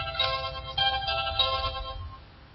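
An electronic telephone ringtone trills from inside a neighbourhood residents' association office, a muffled tonal warble in repeated bursts that fades off near the end.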